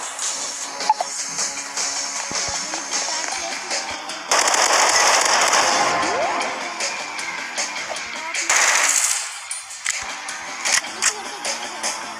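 Bursts of rapid gunfire from a powerful gun in a video game, loud and close, with heavier volleys breaking over a constant background of game noise.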